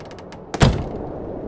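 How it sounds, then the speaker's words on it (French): A door pulled shut with a single solid thump and brief rattle at mid-point, preceded by a few soft clicks, with quiet room tone around it. "Et voilà qu'ils ferment la porte."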